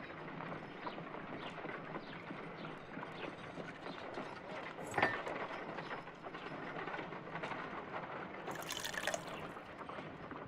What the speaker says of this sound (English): If I wish to shape the ice knife, then I need to pour water inside the mold.